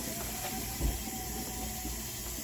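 Steam hisses steadily from the valve of a T-fal pressure canner as it depressurizes, a continuous broadband hiss at moderate level with a faint low rumble underneath and no talking.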